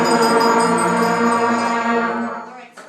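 A beginner school band of tuba, trombone, baritone, bells, flute, clarinets and trumpets holds a sustained B flat together, loud and full, then fades out at the end.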